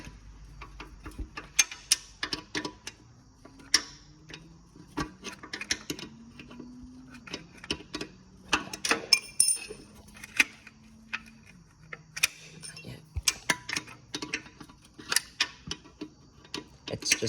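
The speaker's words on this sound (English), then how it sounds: "we can just take a wrench and loosen this until it's loose enough that we can crack it open by hand" A wrench works the oil drain bolt on a Honda 400ex ATV, giving sparse, irregular metallic clicks and ticks at close range over a faint low hum, with no talking.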